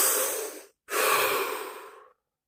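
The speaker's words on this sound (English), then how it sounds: "Take a deep breath." A slow, deep inhale followed by a long exhale, close and breathy with a short pause between them, heard alone with no talking during a guided relaxation session.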